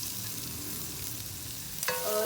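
Garlic and ginger frying in ghee, a steady broadband sizzle that runs alone and unbroken, with a brief clatter and a rise in level near the end.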